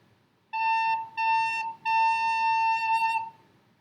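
A recorder sounds the note A in three sustained, steady tones, the first two short and separated by brief gaps, the last held longer, clear and close with no talking.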